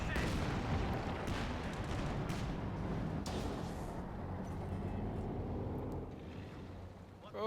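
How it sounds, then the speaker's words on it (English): Incendiary mortar barrage in the Company of Heroes 2 strategy game, a dense, continuous rumble of loud explosions and crackling fire that holds steady for several seconds, then eases slightly before a final swell. "Incendiary mortar barrage is actually just being used."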